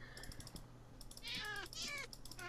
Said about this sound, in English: He just meowed at me